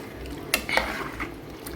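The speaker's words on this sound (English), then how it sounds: "Put the cabbage in it and mix in the cabbage." A spoon scrapes and clinks against a pot as cabbage is stirred into pumpkin rice, with a few sharp metallic knocks and soft shuffling, fairly close and quiet, no voices.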